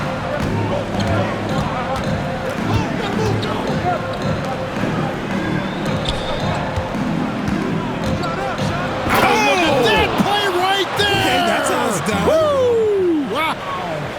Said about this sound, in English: And he slams that one down.